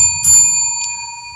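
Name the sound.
bell ringing with long reverb in the room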